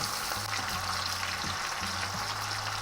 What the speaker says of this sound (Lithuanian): Kepam su krevetėm.